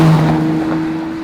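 A front-engined Ferrari Daytona on the move produces a loud, steady, close engine drone with a strong low hum that eases slightly in volume, with no talk.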